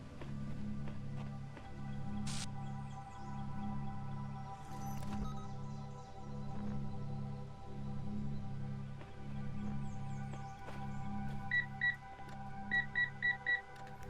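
In the video game The Talos Principle, a quiet repeating pulsing hum plays with a regular rhythm, while short high electronic beeps sound in quick clusters toward the end, faint and synthetic.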